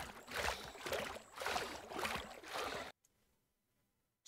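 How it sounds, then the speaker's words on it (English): A game sound effect of a character swimming forward: rhythmic splashing and sloshing water strokes in a steady cycle, full and close, then breaking off suddenly into near silence. "Swimming forward."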